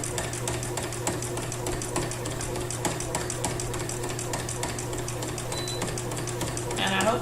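A sewing machine runs continuously while quilting in the ditch with white thread, the fabric pushed diagonally, its needle making a fast, even rattle over a steady low motor hum.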